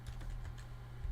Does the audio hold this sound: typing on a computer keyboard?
yes